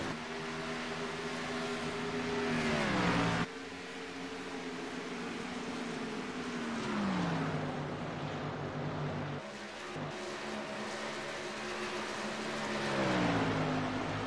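Race cars lapping an oval track, engines droning from a distance and rising and falling in pitch as cars sweep past, several passes over a steady background roar.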